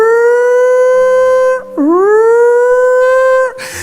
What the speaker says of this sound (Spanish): La sirena de la yarda sonando